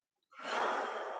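A deep inhale during a guided stretching session, starting after a brief silence and swelling into a long, steady, close breath.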